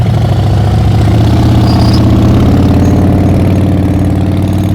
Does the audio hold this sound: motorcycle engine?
yes